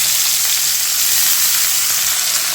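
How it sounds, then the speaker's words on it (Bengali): Onion and chili fry in hot oil with grated gourd, giving a loud, dense, continuous close-up sizzle and crackle that stays even throughout, with no voices. "এখন এই পেঁয়াজ মরিচটা বাদামি করে ভেজে নেব।"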